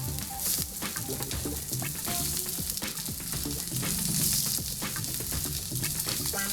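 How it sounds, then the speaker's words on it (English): Pork browns in hot oil in a pan for a Thai basil stir fry, with a loud, steady sizzle and crackling spatter close by and no voices over it. "Let's brown the meat. Brown your pork."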